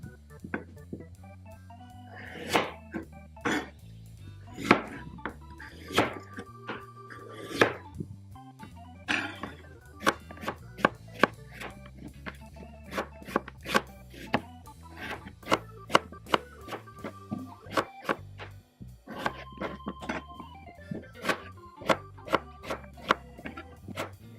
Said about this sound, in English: I'm gonna cut the potato veggies into smaller sizes because my pork is quite small